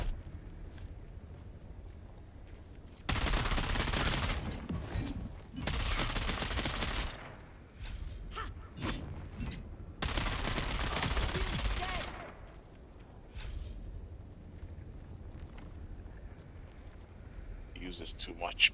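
Heavy automatic gunfire in Dune Awakening's Deep Desert, two long sustained bursts of rapid shots with scattered single cracks between, loud and close, with talk in the quieter gaps.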